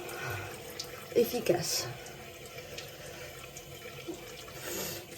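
Tap water runs into a sink while a face is rinsed during an evening skincare routine, a steady faint splashing with a few louder splashes, under someone speaking French briefly.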